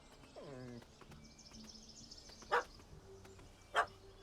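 A dog in The Witcher 3: Hearts of Stone gives a short, clear bark or yelp near the start over a quiet game backdrop, followed later by two sharp, brief clacks.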